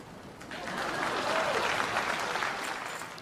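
A studio audience breaks into applause on a late-night talk show, a dense burst of clapping that swells after the first half-second and holds steady to the end, with no talk over it.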